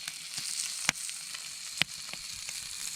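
T-bone steaks sizzle on a copper mat over a wood fire, with foil-wrapped potatoes alongside; a steady, close frying hiss runs throughout, broken by two sharp pops, with no talking.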